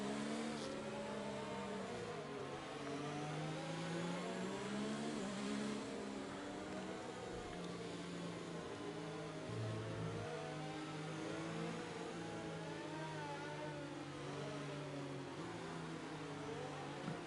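Open-wheel F4 race cars in a Bahrain round of a sim racing game, several engines whining and sweeping up and down through gears in overlapping steady tones, fairly quiet and continuous.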